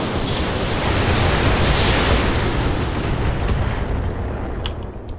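Mech weapons firing in the video game RogueTech make a dense, roaring barrage of heavy explosions and booms, loud and continuous, thinning slightly toward the end with faint high crackles.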